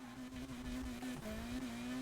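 A police car engine roars in Need for Speed Heat, a sustained, steady drone with slight pitch wavering as it holds revs, heard fairly faintly and with no voices.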